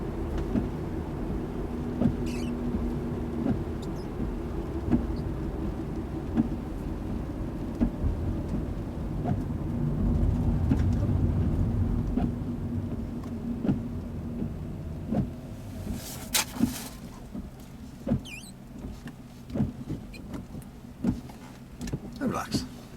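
Windscreen wipers sweep across a car's glass in heavy rain during a driving lesson, with a rhythmic swish and thump over engine and rain noise, and voices talking in the cabin.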